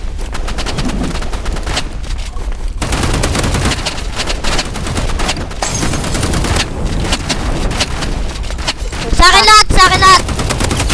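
Rapid shotgun blasts ring out in a Roblox Rivals four-versus-four match, loud and repeated amid chaotic game effects, with a voice briefly speaking over the gunfire.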